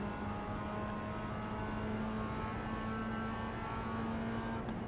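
Race car engines in iRacing, with Mazda MX-5 and Toyota GR86 classes on track together, hold a steady droning hum at a constant level with no clear passes or sharp revving.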